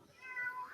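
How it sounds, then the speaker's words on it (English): A single cat gives a short, rising meow, faint and a little distant, alone without any voices. "as a cat lover, I can appreciate the meowing there"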